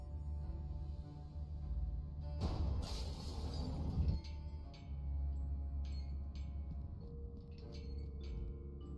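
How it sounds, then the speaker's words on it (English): Glass shatters above the door to a lab in the Cthulhu adventure game Gibbous, a loud burst of breaking and crashing over a steady low ambient hum, followed by scattered faint tinkles of falling shards. "I got rid of the glass above the door to the lab."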